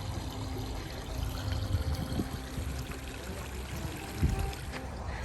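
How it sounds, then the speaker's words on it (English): A small waterfall trickles outdoors on hotel grounds in Estes Park, Colorado, giving a steady, fairly faint wash of running water with a few low bumps beneath it and no one speaking. "There's a little bit of a waterfall over there,"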